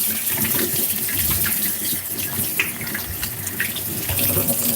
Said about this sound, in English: I'm just going to wash my hand a little bit